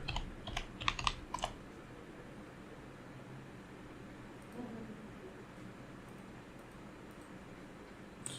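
A brief burst of quick computer keyboard keystrokes in the first second and a half, close and fairly soft, then only a low steady room hum with faint air noise.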